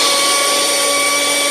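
A power drill runs continuously with a loud, steady whine that stays at one pitch for the whole moment, with no talking.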